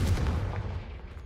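A loud, close burst of the Confringo fire-blast spell erupts in Hogwarts Legacy, a heavy booming blast with a deep rumbling tail that fades over about a second, with no talking.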